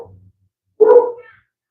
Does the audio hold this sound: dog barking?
yes